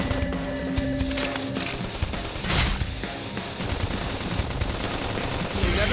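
Gunfire in Xenoblade Chronicles X, a fast burst of shots mixed with game effects and music, dense and close.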